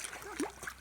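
Children swimming and learning to swim in a pond, splashing water in short bursts; a louder splash stands out near the middle over a steady watery wash.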